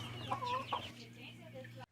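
Chickens being fed outdoors cluck near the listener, a couple of quick bursts of clucking over a steady low hum, then the sound cuts off abruptly.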